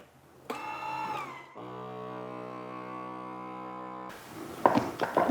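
A small vacuum sealer attachment hooked onto a jar, drawing the air out for zucchini flour storage: a steady mechanical hum with a strong harmonic drone, lasting a few seconds after an earlier tone, ending in clatter and handling noise.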